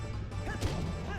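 A single sharp smash from a shield attack against a Goron boss in Zelda: Twilight Princess HD, landing over a steady rumbling game backdrop.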